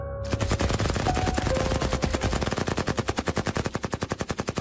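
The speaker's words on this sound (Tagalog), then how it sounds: "Iputok niyo ang baril nyo!" Rapid bursts of machine-gun fire in an aswang-hunting soldier audio drama, dozens of evenly spaced loud shots rattling without pause and slowing slightly toward the end, with no voices.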